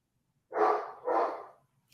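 A dog gives two close, loud barks in quick succession after a moment of silence.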